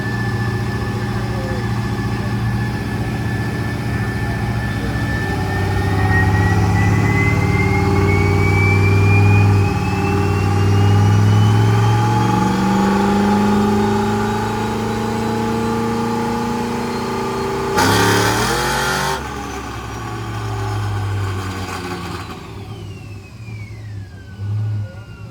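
Hot rod car with a 5.3 engine, loud and close, idling with a deep rumble and then revving up in swelling surges before settling back, with one sharp burst near the end.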